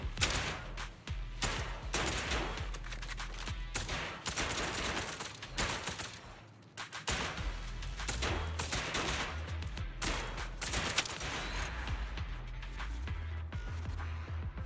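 Gunfire rattles nearly nonstop in the Zenless Zone Zero video game: dense, loud bursts of rapid shots with brief gaps, layered with heavy booming impacts and no voices.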